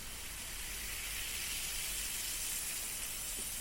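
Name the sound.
fizzing ear drops in the ear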